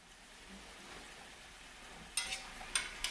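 Potatoes cook in a covered pan for a veggie omelettata, a quiet steady sizzle, broken near the end by three sharp metallic clinks and rattles, close by with no talking.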